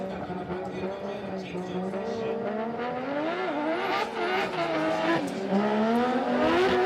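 Drift cars race at Suzuka Twin Circuit with loud, sustained engine roar, rising and falling revs and squealing tires, heard close, with a commentator talking over it.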